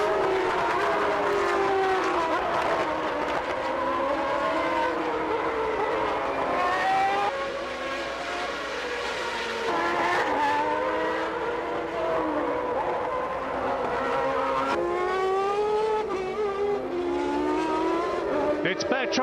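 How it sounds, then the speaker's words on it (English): Formula One cars of the 1991 Brazilian Grand Prix at Interlagos scream past, high engine notes rising and falling through gear changes, loud and continuous, with a commentator's voice over the racing. "enjoy the sounds of the 1991 Formula One Grand Prix of"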